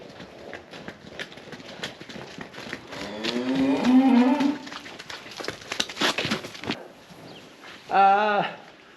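Cattle on a farm, including a Limousin herd, moo loudly with drawn-out calls, one long low moo in the middle and a shorter close bellow near the end, while birds and faint voices sound in the background.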